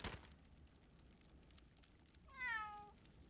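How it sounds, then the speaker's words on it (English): A single drawn-out cat meow sounds in the video game Labyrinth of Galleria, rising then falling, clear and close after a soft crackle at the start and a quiet stretch of faint background noise. "Cat moment."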